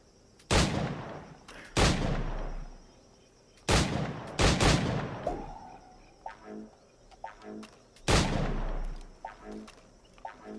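Gunfire at targets in the video game Assassin's Creed IV Black Flag: four loud, separate shots spaced a couple of seconds apart, each followed by a short echo, with faint game ambience between them.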